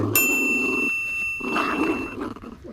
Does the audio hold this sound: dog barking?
yes